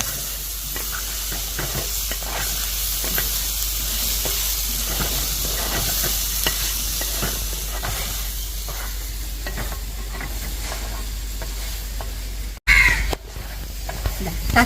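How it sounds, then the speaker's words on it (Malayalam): Tomatoes sautéing in a pan, a continuous close sizzle and hiss with stirring, steady throughout, briefly interrupted near the end by a sharp cut and a burst of noise. "തക്കാളി ഇട്ടിട്ടും ഇതേപോലെ തന്നെ ഒരു 5 മിനിറ്റ് ഒന്ന് വഴറ്റിയെടുക്കണം കേട്ടോ."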